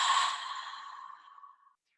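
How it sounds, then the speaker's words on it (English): A single long, breathy exhale through an open mouth, close and clear, fading gradually to silence after about a second and a half. "Cleansing, open mouth, exhale."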